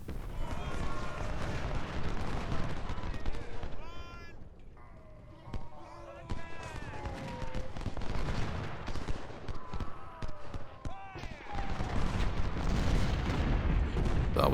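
Cavalry and infantry gunfire in a Civil War battle game: a dense, continuous crackle of musket volleys and booms, moderately loud throughout, with a brief lull in the middle and a swell toward the end, under a voice speaking.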